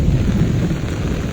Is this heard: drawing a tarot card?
no